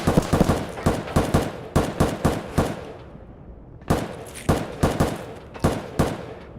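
Bursts of gunfire in Escape From Tarkov, fired in the tunnels beneath the map, crack out as rapid loud volleys, break off after about three seconds, then return in another string of sharp shots.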